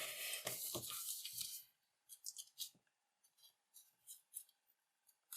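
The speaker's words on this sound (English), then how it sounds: "Once it's lined up, make the fold." Origami paper being folded for a lily flower, a burst of crisp rustling crinkles followed by a series of short, soft paper creases and taps, close and quiet.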